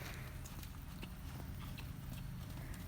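A horse trots across a dressage arena during schooling, its hooves making a steady, rapid clip-clop on the footing under a constant low background rumble, moderately distant.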